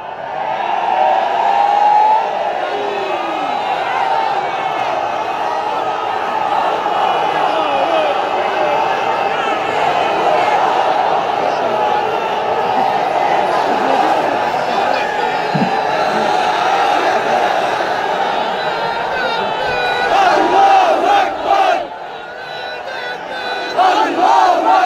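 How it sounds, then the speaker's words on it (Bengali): A large crowd at a religious sermon gathering on the Sylhet MC College field chants slogans in unison, loud and continuous for the whole stretch, with a brief dip and surge near the end. "Slogan is on."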